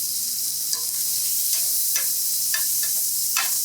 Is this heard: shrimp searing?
yes